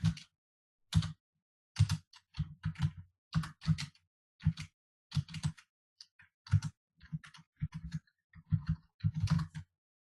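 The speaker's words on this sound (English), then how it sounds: "and I actually type" Irregular bursts of keystrokes on a computer keyboard, close and clear, with short clusters of clicks separated by brief pauses in an otherwise quiet room.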